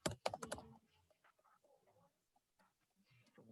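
Quick bursts of keystrokes on a computer keyboard while entering a description in accounting software, a cluster of close, crisp clicks at the start followed by quieter scattered taps and soft background noise.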